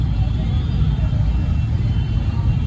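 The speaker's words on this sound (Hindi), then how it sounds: "चांद रात की वजह से जामा मस्जिद की साइड हैवी ट्रैफिक" Heavy road traffic crawls near Jama Masjid on Chand Raat, a loud, constant low engine rumble of cars and scooters with murmuring voices mixed into the din.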